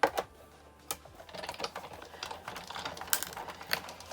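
An electronic cutting machine slices silhouettes from plastic-coated paper, giving quick clicky mechanical ticks and a soft whirring buzz in an irregular rhythm, quiet and close.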